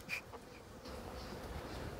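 Honeybees buzzing around a swarm hive in an apiary, a soft, steady droning hum with a few brief louder passes of individual bees close by.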